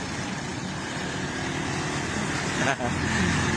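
Tricycles pass on a road in Palawan with a steady motor rumble and traffic noise, and a brief louder whoosh as one goes by. Someone talks over it.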